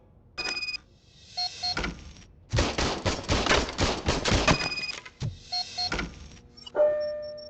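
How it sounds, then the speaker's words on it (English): Gunfire from an old service gun in the Robocop Rogue City video game: a rapid burst of mechanical shots, with shorter bursts and clicks before and after, loud and close. "I was issued this old gun and serviced it according to the manual. I will try it out."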